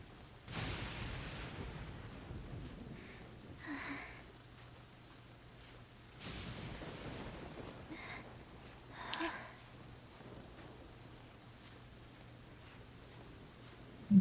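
A thunderstorm in the video game Genshin Impact brings steady rain hiss broken by two rolling thunder rumbles, separated by several seconds, plus a few softer distant swells and a sharp crack at the very end.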